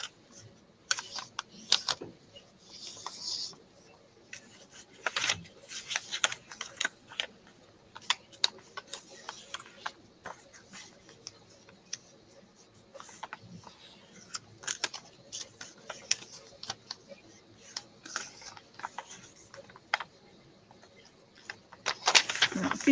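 Pages of a damaged book are folded by hand for book folding, making faint papery taps and crisp creases in quiet, irregular bursts near the listener.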